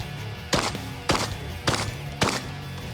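Shotgun fired at targets, four loud sharp blasts evenly spaced about half a second apart, each with a short ringing tail, close by with no talking.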